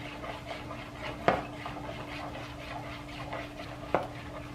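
A spoon stirs melted butter into an apple walnut cobbler mixture in a bowl, giving soft scraping and mixing sounds with two sharper knocks against the bowl, close and fairly quiet.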